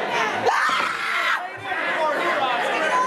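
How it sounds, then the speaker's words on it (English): A woman's high-pitched scream rises over a noisy crowd at a wrestling show as a wrestler named Corky reaches for her, with chatter and shouting filling the room around it. "every time he goes to try, he gets a scream out of her"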